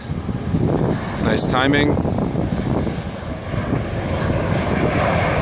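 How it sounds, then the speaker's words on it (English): A fixed-wing airplane passes low overhead on its landing approach, a loud sustained engine roar swelling and fading while wind buffets the microphone and a person speaks briefly. "Here comes a plane landing right above the tent."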